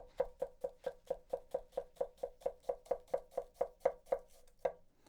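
A Yoshikane bunka knife tap-chopping cabbage in a quick, even rhythm: about twenty crisp, close knocks on the board, each a sharp tap with a short crunch, with one last stroke after a brief pause.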